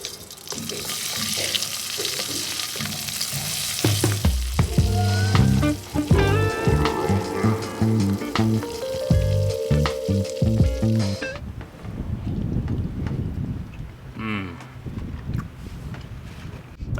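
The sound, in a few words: butter sizzling while frying food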